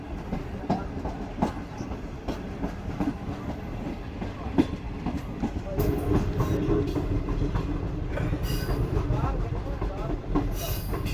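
A safari train through the Thar Desert runs on a long left curve just after leaving a station: steady rolling rumble with rhythmic wheel clatter, faint squealing hints, and a louder stretch partway through.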